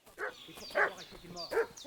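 A dog in Kingdom Come Deliverance 2 barks and yips in three quick, fussy outbursts with whiny overtones, close and moderately loud.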